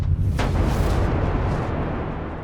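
A huge cinematic explosion for the Big Bang bursts in with a sharp crack, then rolls into a loud, deep rumble that slowly fades, with no voices over it.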